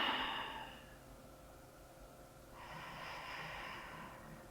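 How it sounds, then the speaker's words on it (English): Slow breathing during a guided yoga relaxation: a soft exhale fades out, then after a pause a gentle inhale builds, close and quiet in an otherwise still room. "Shift your attention to your breath."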